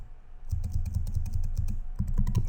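Fast typing on a computer keyboard, a quick run of crisp, closely spaced key clicks with a short pause before a final burst, close and clear with no voice.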